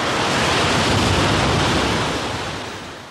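Sea waves wash against the shore at the Giant's Causeway, a steady, close roar of surf that swells and then gradually eases, with no voices.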